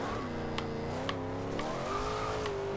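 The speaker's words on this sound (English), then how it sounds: "A little bit of a wheel spin there in 3rd gear coming out of that corner" A 2012 Ultima GTR in the Forza Horizon 2 racing game spins its wheels in 3rd gear coming out of a corner, its engine droning and rising steadily under a continuous tire squeal, with no talking.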